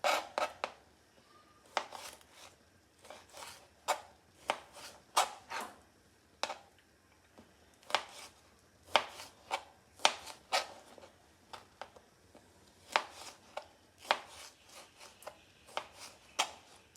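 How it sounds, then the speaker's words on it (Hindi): A knife slices through green chilies on a board, cutting them into rounds in a steady run of crisp, separate chops, close and fairly quiet with brief pauses between strokes. "मिर्चें जो है वो भी काट लेनी है ऐसे, गोलाई में रख के काट लें इनको भी"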